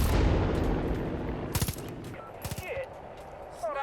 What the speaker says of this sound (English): Weapon shot.